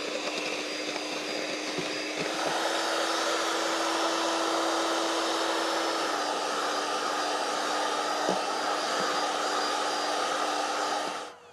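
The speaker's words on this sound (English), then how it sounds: "Put the mixer up on full speed" An electric mixer runs at full speed, powered through an inverter at a bush camp, making a steady, loud whirring drone with a constant motor hum that holds unbroken for the whole stretch, briefly shifting pitch midway.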